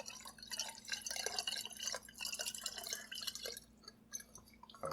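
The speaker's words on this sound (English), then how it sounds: "Now I'm just going to pour in, like I said, this is half a cup of sugar with 1 cup of water." Sugar water, half a cup of sugar dissolved in a cup of warm water, poured into a bottle of homemade limoncello; a quiet, close trickle with uneven splashes and drips over a few seconds, no talking.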